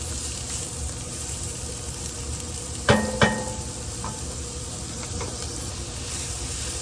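Onion, carrots and broccoli sizzle in a pan with a steady close hiss, broken by two sharp metallic clanks partway through.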